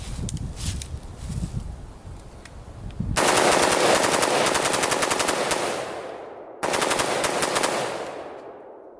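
An AR-15 fitted with a Fostech Echo binary trigger fires in rapid outdoor strings, a dense loud rattle of shots running several seconds, breaking off, then resuming in a second burst before stopping abruptly; no voices.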